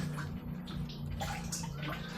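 Water rushing steadily through a hose and reverse osmosis filters of a spotless-rinse system, a smooth, even flow at moderate volume over a couple of seconds, with no talk.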